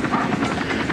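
Military helicopters fly overhead during a national holiday celebration, a loud continuous rotor thump and engine roar filling the short stretch.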